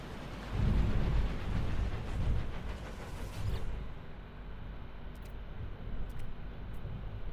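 Stormy weather building in No Man's Sky, a loud rumbling roar of thunder and rain-like noise that swells early, then settles into a steady, dense wash with a few faint crackles later.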